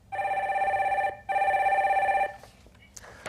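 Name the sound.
telephone ringing as a call-in line is connected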